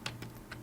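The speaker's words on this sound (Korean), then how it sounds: "키보드의 G 버튼을 연타하시면" Computer keyboard keys tapped repeatedly, Ctrl+Alt+G held with G struck again and again, giving three or four quick, faint clicks close by in quiet.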